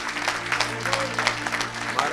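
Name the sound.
audience applause in church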